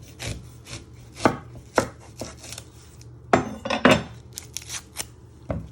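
A kitchen knife chops through an onion on a cutting board, trimming off its ends. Sharp, crisp, close-up thuds come in an irregular series with short gaps between them, and no voices are heard.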